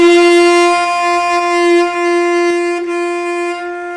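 Played on tenor saxophone, two G notes run together without a break in the air, forming one continuous, loud, close tone of about four seconds, alone with no voices.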